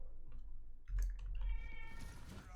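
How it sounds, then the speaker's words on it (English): A pet cat named Grimbjorn meows at close range over a low thump and some clicking, with a stretched, rising meow toward the end. "My cat is being silly."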